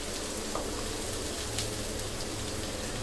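Something fries in a pan before a cashew, poppy seed and green chili paste goes in, a dense, even sizzle and crackle hissing steadily and faintly throughout.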